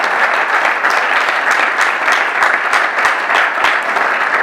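An audience applauding the speakers at a public talk, steady loud clapping from many hands filling the room without a break for several seconds.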